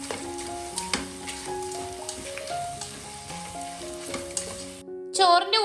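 A beef yakhni pulao mixture with curd and lemon juice is stirred in a pot, giving a steady soft sizzle and scraping under continuous background music, with a brief louder clatter near the end.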